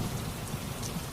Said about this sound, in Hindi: यदि ऐसे ही वर्षा होती रही